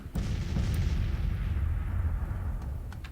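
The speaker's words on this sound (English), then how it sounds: "let my artillery fire on whoever they can for the time being" Sustained artillery barrage in a Civil War strategy battle, Grand Tactician: The Civil War, with deep overlapping booms rumbling continuously at steady loudness and a few sharper cracks near the start.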